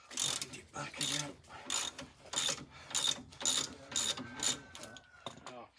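A ratchet winds back a nylon-type bolt with a rapid clicking pawl. The strokes repeat in a steady rhythm, about eight close back-and-forth pulls, and no one talks.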